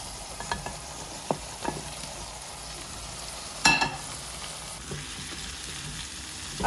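Onions and spices frying in a pot for dum pukht biryani, a steady close sizzle broken by occasional scraping stirs and a sharp utensil knock, with no talking.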